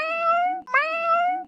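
Two loud, clear cat meows follow one another closely, each a drawn-out tonal cry, heard up close with no other sound.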